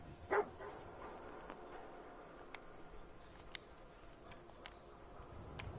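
Dogmeat, the dog companion in Fallout 4, gives a short bark near the start, then faint game ambience with scattered small clicks follows.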